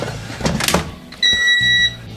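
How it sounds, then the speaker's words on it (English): Metal air fryer basket holding a cake pan with Chicago-style deep dish pizza is shoved in with a short scrape and clunk, followed by the appliance's steady electronic whine. "Let's shove it in the air fryer."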